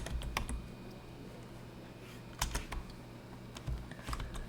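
Sporadic typing on a computer keyboard, a few quick clusters of sharp clicks separated by pauses, fairly close and quiet with no voices.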